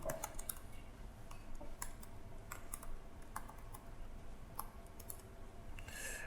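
Code being typed on a computer keyboard, a steady run of close, crisp key clicks with irregular rhythm and occasional heavier strokes, alone without talk.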